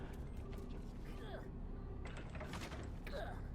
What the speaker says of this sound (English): Right, so I've opened the door above.